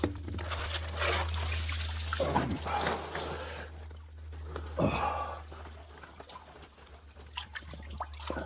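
Dirty pond filter sponges squeezed and rinsed in a container of pond water, giving close sloshing, dripping and trickling sounds in uneven bursts over a steady low hum.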